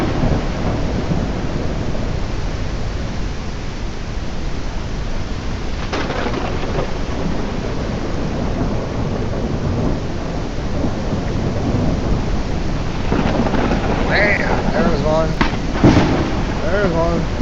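Thunder rumbling in the video game Belts of Iron, a deep continuous roll under rain-like hiss, with sharper crackling bursts near the end and a voice talking briefly over it.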